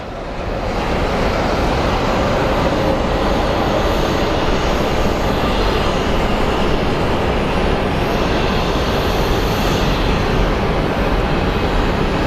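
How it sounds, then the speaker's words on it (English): An American Airlines Airbus A321 arrives from Dallas at Phoenix Sky Harbor International Airport, its engines a loud, steady roar that swells in and holds for the whole stretch, with no talking over it. "A321 landing in from Dallas."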